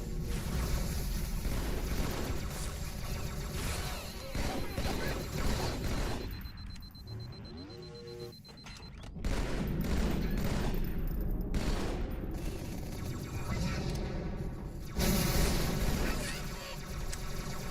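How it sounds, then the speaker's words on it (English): Halo 2 gameplay where a plasma grenade goes off early, bursts and blasts heard among constant game noise and rushing, wind-like ambience, with a voice talking at times. "Why did my grenade blow up early?"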